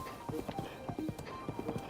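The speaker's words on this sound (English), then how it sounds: "the horse is following the road close." Horse hooves clip-clop along a road in the video game Breath of the Wild, a steady trotting rhythm of close, crisp hoofbeats with no talking.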